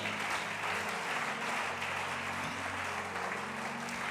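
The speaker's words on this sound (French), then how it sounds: "Est-ce qu'on peut acclamer le Seigneur?" A church congregation at a Pentecost seminar applauding and acclaiming the Lord, a dense, continuous wash of clapping and cheering that stays steady throughout at moderate distance, with no single voice standing out.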